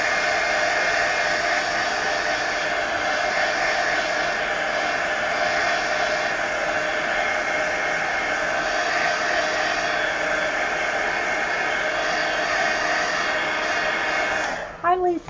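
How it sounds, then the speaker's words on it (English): A heat gun blows a steady, loud, even rush of hot air over wet paint for the whole stretch, then cuts out with a few clicks at the end; no speech over it. "Let me just hit this with the heat gun to make sure that the paint's dry."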